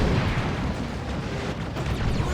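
Dark Reaper units blowing up in the strategy game Dawn of War 2, a dense continuous rumble of overlapping explosions and bursts, loud and unbroken throughout with no voices.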